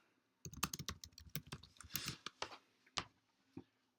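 Someone typing a search on a computer keyboard: a quick run of close, crisp keystrokes, then a few slower, spaced taps at the end.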